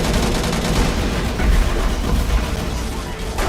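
Missiles launching in the space combat game Angels Fall First, a dense, loud rumbling roar with rapid crackling bursts that holds steady and then fades slightly.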